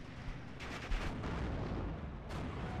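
Artillery fire and the sharp report of a 17-pounder anti-tank gun in a World War II strategy video game, heavy booming blasts layered over dense continuous battle rumble, loud and without talk.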